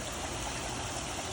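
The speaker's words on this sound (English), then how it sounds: "Waterfall looks great." Waterfall in a bird aviary, a steady broadband rush of flowing, splashing water, close and continuous with no other sounds.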